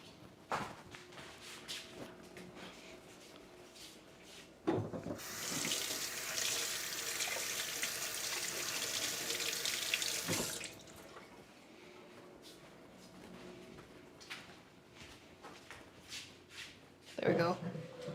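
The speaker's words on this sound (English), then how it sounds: "Okay, I'll wash this tomato then." A tomato is rinsed under a running kitchen tap, with a steady rush of water lasting several seconds between quieter moments of handling and faint room noise.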